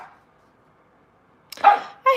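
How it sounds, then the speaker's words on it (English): Dogs reacting during a thunderstorm with lightning, with a few sharp nearby barks and yips after a quiet stretch and a faint earlier sound. "as you could hear dogs freaking out over that"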